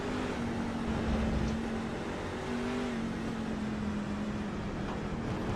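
A Stars & Stripes Truck Series race truck at Canadian Tire Motorsports Park drones with a sustained engine note, steady and fairly loud, pitch wavering slightly as it revs through the run, with no voices.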